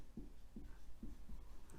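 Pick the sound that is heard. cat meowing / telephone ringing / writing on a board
writing on a board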